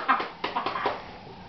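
Romeo the dog gives a run of short, close whimpers and whines, several quick rising yelps in a row.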